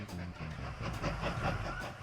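Train rolling along in the Mashinky railway-building game, a steady rumbling run with faint rhythmic clacking, moderately loud and continuous with no voices.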